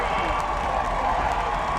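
High school football crowd at a state 4A playoff game cheering after a long run, a steady broad roar of cheers and scattered applause filling the stands, moderately loud and sustained without a break.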